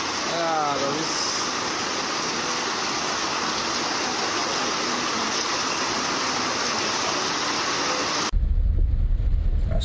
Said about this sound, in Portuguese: É a água, viu, pai? A água.